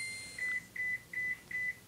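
A cell phone gives a run of five short, high electronic beeps in quick pairs with an even rhythm. The beeps are clear and fairly close over a quiet room, with no voices.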